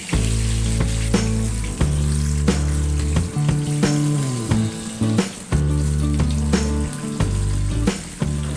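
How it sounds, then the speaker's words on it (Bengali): Chicken pieces fry in hot oil for a KFC-style recipe, a loud continuous sizzle with shifting bubbling swells and occasional brief dips, no voices. "এই মাংসগুলো ভাজতে হবে যাতে উপরে ক্রিস্পি এবং ভিতরে একটা জুসি ভাব রয়ে যায়।"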